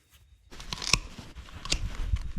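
Scissors cutting open the stomach of a freshly caught fish: a few close, crisp crunching snips and tearing sounds in quick succession over a quiet background.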